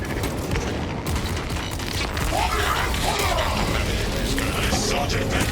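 Dense gunfire and booming blasts from Warhammer 40K: Space Marine 2, a loud continuous barrage of rapid shots and crashes with mechanical clatter layered under battle noise.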